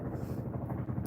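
Helicopter flying overhead, a loud, steady throbbing rotor drone with a continuous low pulsing beat that fills the whole moment without pause.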